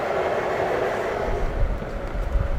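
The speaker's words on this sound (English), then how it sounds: "The sound of a train adds to the atmosphere." Model train rolling through the holiday train show at the New York Botanical Garden, a steady close rumble with soft rail clatter and low thumps building toward the end.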